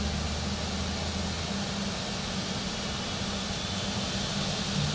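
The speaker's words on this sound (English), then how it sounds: "the right engine starting up" The right engine of an Airbus A220 spins up in Microsoft Flight Simulator 2024, a steady broadband roar with a low hum and a faint rising whine, continuous and even throughout.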